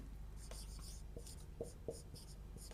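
Pen or chalk writing out a linear equation by hand, a soft scratchy rubbing in short strokes with a few faint taps, quiet and close, no talk.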